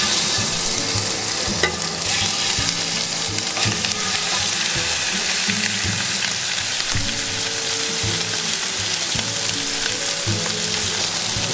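Pieces of beef cheek sizzle and crackle steadily in smoking-hot oil, a dense, continuous frying hiss with faint scraping and clatter, close up and without speech.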